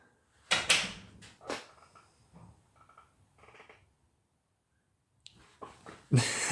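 A door opens or closes indoors in a few sharp knocks and clunks, quiet and close, separated by near silence with faint rustling between them.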